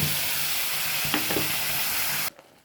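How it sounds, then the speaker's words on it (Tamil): A ground paste with ginger and garlic sizzles loudly in a hot pan, a close, steady frying hiss with a couple of stirring knocks before it cuts off abruptly near the end. "இதையும் போட்டு நல்லா வதக்கிக்கலாம்"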